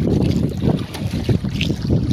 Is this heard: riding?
yes